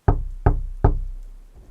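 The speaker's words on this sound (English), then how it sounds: "I want to walk up to the front door and just start, banging the knocker" Three heavy knocks from a door knocker striking a front door, evenly spaced and close, each ringing briefly, with the last decaying slowly into quiet.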